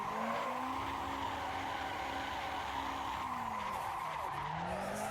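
Car tires skidding and squealing while drifting in Assetto Corsa, a continuous loud screech layered over engine drone, with the pitch sliding up and down as the car swings from side to side.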